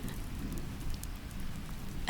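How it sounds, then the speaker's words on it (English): Gentle rain falls steadily in a dark outdoor setting near an old stone bridge, a soft continuous patter with low, heavy dripping, faint and even throughout with no voices. "gentle rain."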